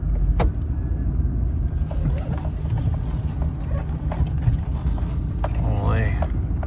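A 2007–2013 Chevy Silverado pickup drives off after being shifted into drive, its steady low engine and road rumble filling the cab, with a few faint clicks and a brief squeak near the end.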